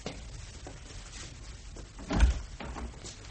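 A door is opened in a police station during an evening scene, heard as a single fairly close thunk under a steady room hiss, with no voices.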